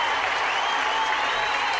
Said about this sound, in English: That applause is dedicated to Phil Hartman